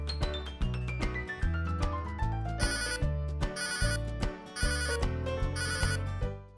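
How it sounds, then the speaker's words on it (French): A Weenect GPS pet tracker rings out to call an animal back, playing a looping electronic ringtone melody with bright chiming notes, steady and clear with no voices. "En faisant vibrer ou sonner le GPS, votre animal est alerté et peut revenir vers vous."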